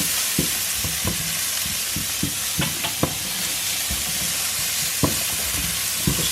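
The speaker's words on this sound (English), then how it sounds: "So it's just sweating the shallots off until they are translucent." Sliced long shallots sizzle and fry in a pan, a steady loud hiss broken by scraping stirs and occasional pops, close up with no talking.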